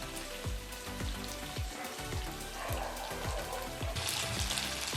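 Sabudana vadas fry in hot oil with a dense, steady crackle and hiss, punctuated by soft repeated bubbling pops, close and without voices.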